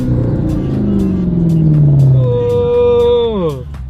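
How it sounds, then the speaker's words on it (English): V8 car engine revving up and down, its pitch sliding downward then climbing again in a loud, close, throaty growl. "It's a V8."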